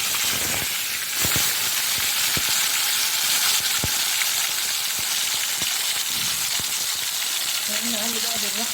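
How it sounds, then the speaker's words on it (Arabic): Tilapia pieces dropped into very hot oil sizzle and crackle loudly and continuously, with sharp pops scattered throughout and a few faint background tones near the end. "نزل السمك كده"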